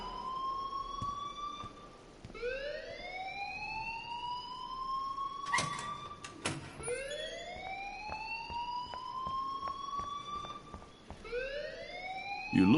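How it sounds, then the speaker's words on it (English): A loud electronic alarm in Life is Strange wails in repeated rising sweeps, cycling steadily with sharp clicks between some cycles, sounding alone without speech. "please turn off that alarm since that's your job"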